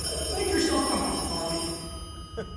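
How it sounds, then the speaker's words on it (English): A telephone rings with a bright, sustained bell tone that fades off toward the end, heard against a busy background. "I have to answer the phone."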